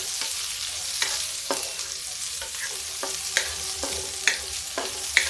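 Onions sizzling and frying in ghee with garlic and green chili in a pan over high heat, a steady close hiss broken by repeated clinks and scrapes of a spoon stirring, with no talking.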